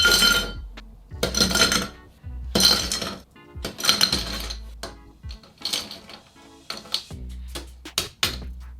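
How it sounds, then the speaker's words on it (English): Ice cubes dropped into a hurricane glass for a Blue Lagoon cocktail, a run of sharp glassy clinks and rattles in bursts with short pauses between, close and clear, no talking. "get your hurricane glass and fill it with ice"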